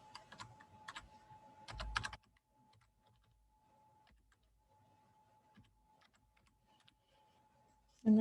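Library card details being typed on a computer keyboard, a quick burst of close key clicks at the start, then a long near-silent pause with a faint tone and a few scattered taps before a sudden loud noise at the end.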